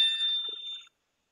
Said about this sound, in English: damn phone